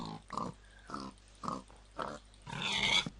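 A Minecraft pig oinks and grunts in short bursts at a steady pace, ending in a longer, louder squeal as it dies.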